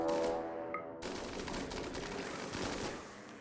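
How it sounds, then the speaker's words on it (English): Gunfire from a firing squad in the colony-sim video game Rimworld: a dense, continuous fusillade of overlapping shots that follows a brief tonal hum at the start. "The firing has started"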